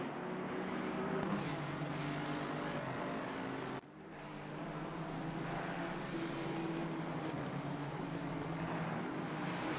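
Aston Martin and Ford race cars battle wheel to wheel at Imola, their engines blending into a loud, continuous roar with a brief dip partway through, with no voices over it.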